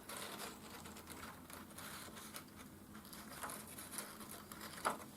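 A sewing machine stitching with white cotton thread gives a fast, light, irregular patter of needle strokes, close and fairly quiet, with small clicks near the end.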